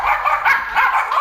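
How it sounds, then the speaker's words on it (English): A dog barks and yips in a quick run of several short, loud, close barks with brief whimpering gaps, heard alone without talk. "Dog's gonna bark."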